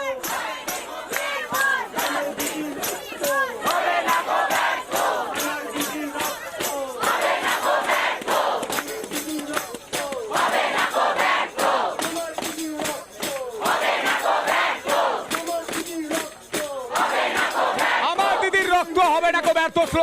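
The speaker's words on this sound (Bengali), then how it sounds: "এই মুহূর্তে স্লোগান চলছে" Medical students at a doctors' protest chant slogans in loud, rhythmic bursts, a crowd of voices rising and falling in repeated call-and-response phrases, close and continuous throughout.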